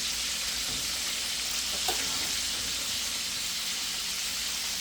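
Bacon frying in a pan gives a steady, dense crackling sizzle, close and constant, with one brief louder pop partway through and no voices.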